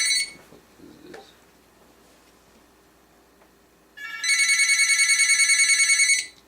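Telephone ringing loudly and steadily for about two seconds with a rapid trilling bell pattern, coming after a stretch of quiet room noise and a brief faint voice.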